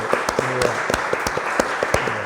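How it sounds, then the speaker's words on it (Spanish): An audience at a poetry gathering applauds with scattered, uneven hand claps that crackle continuously at moderate loudness. "Me gustaría de verdad aplaudiros"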